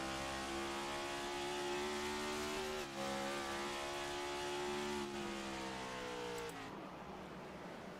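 Onboard the 4 race car at Phoenix Raceway, a loud close engine howls at high revs, with a brief lift near the third second and another near the end as the pitch drops.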